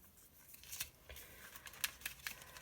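Scissors snip through paper during a crafting session, several quiet, crisp cuts in an irregular rhythm, close and faint against a soft background.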